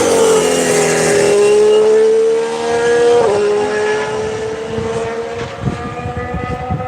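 An AlphaTauri Formula 1 car pulls out of the pits at a Barcelona test, its loud, close engine whining at a steady pitch with a quick gear-change blip, then fading slightly as it moves away.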